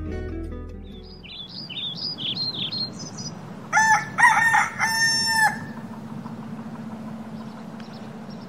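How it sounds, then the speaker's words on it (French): Dawn in Saint-Amour: small birds chirp and whistle in short rising phrases, then a rooster crows loudly several times nearby over a steady outdoor hum. "Les oiseaux ont entamé leur symphonie matinale"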